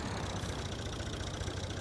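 A small Fiat tractor engine idles steadily nearby, a continuous low chugging rumble with no talk over it.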